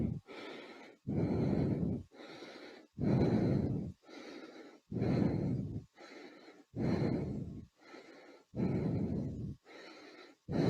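Heavy, labored breathing during an indoor cycling workout, with a steady rhythm of deep breaths, each lasting about a second, close and loud, with brief quiet gaps between them.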